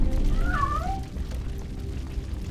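A single short cat meow in RoboCop: Rogue City, a brief rising-falling cry heard once near the start over a low rumbling game background.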